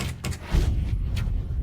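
A door swings open with a couple of quick light clacks, then a heavier low thud and a short rumbling drag, close and fairly loud, with no speech.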